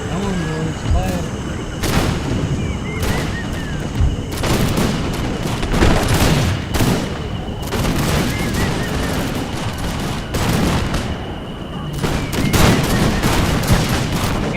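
Ragged musket volleys from massed soldiers in the Total War Empire video game, set in the American Revolution, crackle in repeated loud bursts over continuous battle din while someone talks.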